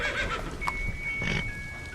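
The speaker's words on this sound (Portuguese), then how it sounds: "o seu cavalo bufando, até que ele saiu em disparada e o seu cavalo relinchando" A horse snorting and neighing up close, a breathy snort followed by a rising whinny, set against a steady background hum.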